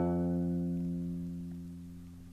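Single low guitar note fretted at the first fret of the sixth string, plucked once and left to ring steadily while slowly fading, heard alone up close.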